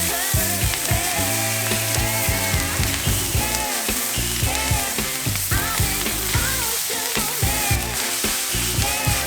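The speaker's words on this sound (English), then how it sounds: "Continue to mix the ingredients together over high heat for 1 to 2 minutes." Fried rice sizzles steadily as it is mixed over high heat, a continuous loud frying hiss running the whole time beneath prominent rhythmic backing music.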